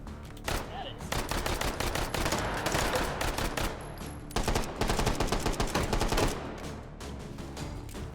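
Semi-automatic five-round rifle fire in the VR game H3VR comes as dense bursts of sharp gunshots, loud and close, with a brief pause in the middle before another rapid volley.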